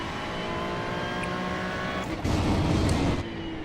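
Engine of a GT3 race car lapping Misano in the iRacing video game: a steady, fairly loud engine drone with a brief surge in intensity near the end.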